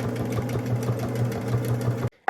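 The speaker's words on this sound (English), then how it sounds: "And then you would just sew your 1/4 inch seam like this" Sewing machine stitching a quarter-inch seam on cotton oven mitts, a fast steady mechanical whir with regular needle pulses, close and continuous before stopping abruptly near the end.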